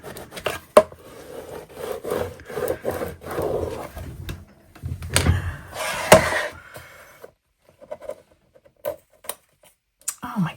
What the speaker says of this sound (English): Scrape it down.